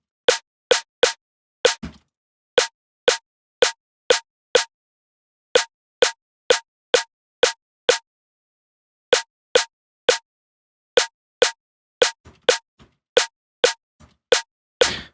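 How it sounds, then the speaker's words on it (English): Synthesized drum and bass snare drum tuned to B hits repeatedly in short, punchy, evenly spaced patterns with brief pauses between groups, dry and alone. "So we're now having a snare drum in the key of B"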